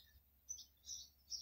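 Small bird chirping outdoors in a few short, faint, high tweets spaced apart, with no voices over them.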